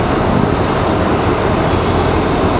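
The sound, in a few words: airplane arriving at Raleigh-Durham airport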